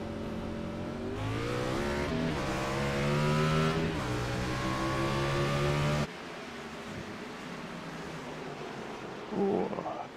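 Race cars restart at Martinsville in an ANZCAR ABRUZZI Cup sim race, several engines revving hard and rising together for about six seconds before cutting to a quieter, rougher engine drone with faint talk near the end.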